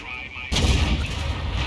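A tank cannon fires a shell in a video game: a single sudden loud boom that rolls on into a sustained low rumble.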